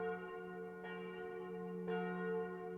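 A bell rings outside, its rich sustained tone humming steadily with two soft strikes renewing the sound, faint and distant with no voices.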